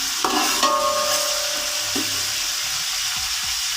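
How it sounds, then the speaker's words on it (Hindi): A spoon stirs crushed ginger frying in a pot for chana pulao, a steady close sizzle with scraping clicks and scattered knocks of the spoon against the pot throughout. "इसी तरह आपने चम्मच इसमें मुसलसल हिलाते रहना है"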